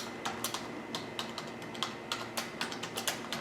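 Someone enters a password on a computer keyboard. Clear, steady keystroke clicks arrive in a quick irregular rhythm throughout, close and fairly quiet, with no talking.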